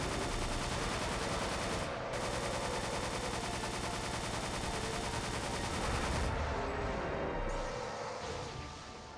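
Dense, continuous automatic gunfire from a minigun mixed with grenade launcher blasts in a sci-fi bug extermination shooter game, loud and relentless before easing slightly near the end, with no talking.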